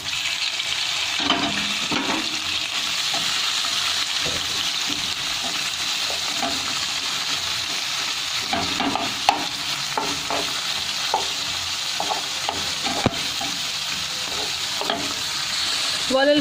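Calamari fries in a hot pan with a steady, loud hiss and sizzle throughout, broken by occasional soft pops and clinks from stirring.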